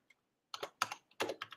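Several quick keystrokes on a computer keyboard, faint and close, in two or three short clusters of clicks with no voices.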